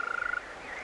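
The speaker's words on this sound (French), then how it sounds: "Ces chants lointains et puissants sont ceux d'une espèce d'amphibien, le crapaud vert" A European green toad calls from a wetland at dusk in April, a fast pulsed trill lasting under half a second, then fading into soft ambient background; the call is distant yet carries strongly.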